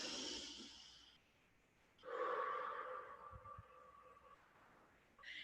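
Slow, deep breathing for stress relief, with a long inhale and then a soft, drawn-out exhale, quiet and close to the mic with faint background hiss.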